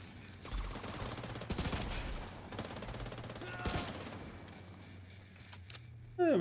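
Bursts of gunfire in the video game The Division 2, a dense fusillade of repeated shots over steady game noise, with loud clusters of rapid fire and a sharp burst at the end.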